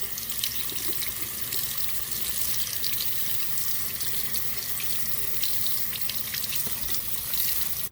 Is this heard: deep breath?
no